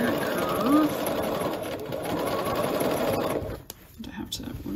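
A sewing machine runs steadily as it stitches the curved armhole and underarm sleeve seam of a McCall's 8220 top. The motor hums continuously up close, then stops near the end, leaving only small handling sounds.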